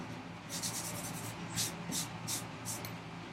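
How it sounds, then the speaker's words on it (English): Eraser rubbing over pencil marks on a wooden workbench vise chop part, a series of short scrubbing strokes in quick bursts, close and clear against a quiet shop background. "Let me erase. Just easier to erase."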